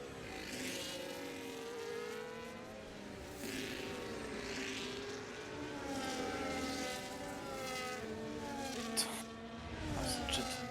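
A jet aircraft passes overhead near a racing circuit at Imola, a steady broad roar with sweeping tones that rises and falls over about ten seconds, with a few sharper bursts near the end.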